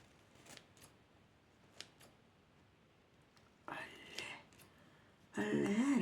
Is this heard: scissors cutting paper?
yes